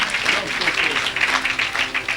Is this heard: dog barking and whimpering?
no